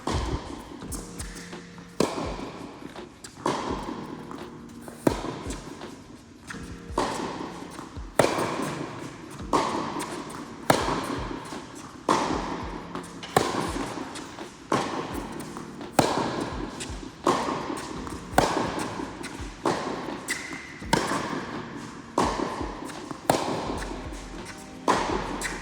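Tennis ball strikes during cross-court rallies at Queen's Club, a steady run of sharp thumps in a regular back-and-forth rhythm, fairly close and clear, with no talking.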